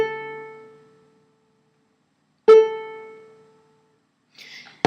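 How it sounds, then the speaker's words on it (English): The A string of a properly tuned ukulele is plucked, once near the start and again halfway through. Each clear, close note rings alone and fades over about a second and a half, with a brief scrape near the end. "is our A string. And it should sound like this."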